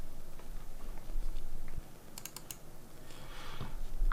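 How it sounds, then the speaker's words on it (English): Keys tapped on a computer keyboard while entering an Excel formula: a few quiet, scattered clicks, then a quick cluster of sharp keystrokes, close and faint over low room hiss. "the next thing to do is to type in the equal sign"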